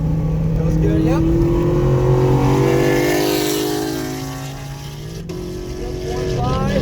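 A car driven hard around a race track during a driving-instruction session on a track day, its engine droning steadily and climbing in pitch as it accelerates, with an instructor talking over it throughout.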